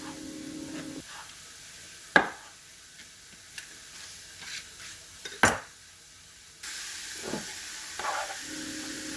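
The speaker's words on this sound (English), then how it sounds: "Right now I'm just going to cook in the onions." Onions and sausage frying in a home kitchen pan, a soft steady sizzle broken by a few sharp utensil clinks and scrapes against the pan, close by with no talking.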